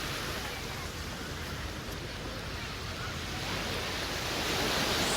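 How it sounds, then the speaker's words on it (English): Steady ocean surf at Waikiki Beach, Hawaii, played as an ambient recording in the Travelear app, a continuous broad wash of waves swelling slightly louder toward the end, with no distinct breaks. "Waikiki Beach. Oh, wow. We're in Hawaii."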